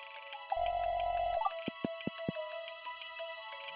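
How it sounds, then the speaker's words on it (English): Watering crops in a farming video game: a soft held watering tone with a low buzzing layer, then four sharp drip-like plinks in quick succession, clean game effects over a quiet musical background, no talk. "we're going to have to water our crops"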